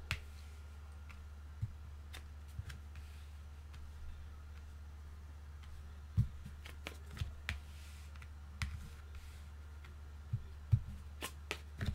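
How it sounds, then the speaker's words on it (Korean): Tarot cards are shuffled and dealt onto a table, producing a series of crisp slaps and soft flicks at irregular intervals over a quiet low hum, with no talking. "타로 카드 한번 열어볼게요."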